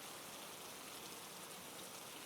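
Steady rain falling without a break, a dense even hiss of drops on surfaces, soft and continuous with no voices or other sounds.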